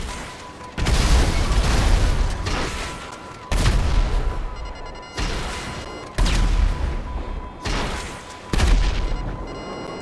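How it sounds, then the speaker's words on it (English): Heavy gunfire and booming explosions in the GTA 5 Online video game, loud sustained volleys broken by brief pauses, with several separate bursts over about ten seconds. "I deduce from the sound of gunfire that you have not gone for the stealthy approach"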